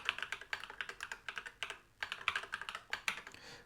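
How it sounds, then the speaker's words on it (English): Rapid, irregular clicking of computer keys as a password is entered, close and crisp, with a brief pause midway before the keystrokes resume; no voices. "We'll type mine in here."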